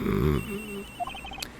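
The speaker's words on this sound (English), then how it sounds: "It sounds like the phone is up in the flight attendant's room." A telephone rings aboard an airplane in the Ace Attorney Investigations game: a short electronic melodic ring of quick beeping tones that follows a brief low tone, with no voices.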